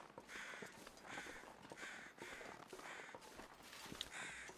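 Crows cawing in the snowy wilderness of the survival game The Long Dark, several harsh caws repeating at a moderate distance over a faint background hiss.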